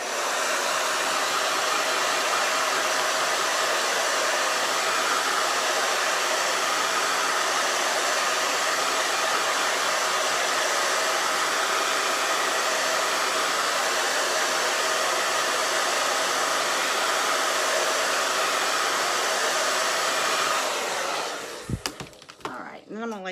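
A handheld dryer blows a loud, constant broadband whoosh over Chalk Couture chalk paste for about twenty seconds, then cuts off with a few handling clicks and bumps at the end.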